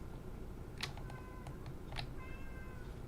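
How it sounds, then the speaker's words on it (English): A cat meows twice, faint and distant, over a steady loud background roar, with no talking. "Oh, there's a cat."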